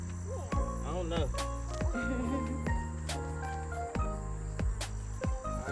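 Insects, likely grasshoppers, chirp steadily through an overgrown, weedy garden, with a constant buzzing drone and short clicks and tinkles overhead. Sharp rustles and knocks cut in now and then.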